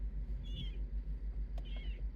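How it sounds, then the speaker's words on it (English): Two short, thin cat meows, one near the start and one near the end, faint and slightly distant over a steady low rumble of outdoor noise at a music festival. "I come across these cats."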